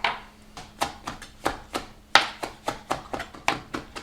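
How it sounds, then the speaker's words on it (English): A knife chops fresh herbs for chimichurri on a cutting board, a steady rhythm of about fifteen crisp close thuds, evenly spaced, with no talking. "And I'm going to chop it."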